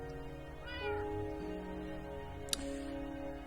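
A cartoonish cat from the video game Garden of Glass meows a few times in short, tonal calls over a steady bed of game music, with one sharp click partway through.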